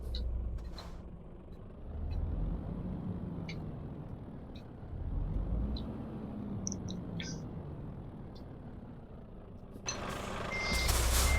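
Truck reversing alarm in a Euro truck driving simulator game: steady repeating beeps over a low idling diesel engine with occasional air-brake hiss, loud and close, no talking.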